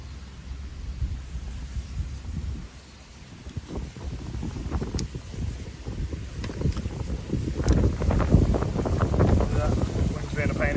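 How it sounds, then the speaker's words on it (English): Wind buffets the microphone on a small boat out on the River Ant in the Norfolk Broads, a loud continuous low rumble that swells and gusts, growing stronger toward the end. "Wind's being a pain here, if anything."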